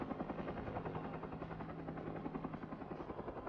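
A helicopter lifting timber on a long line over thick forest throbs steadily with a fast rotor pulse and a low engine hum, constant and moderately distant, with no voices.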